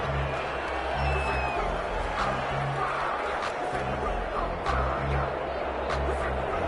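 A stadium crowd roars in a PS4 American football video game during overtime, with a Bills drive underway. The cheering is a steady wash of noise under low crowd chanting, and a commentator's voice is heard over it.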